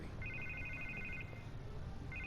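A telephone rings in the Batman Telltale Series game, giving a faint electronic trilling ring that repeats over a low, steady background hum.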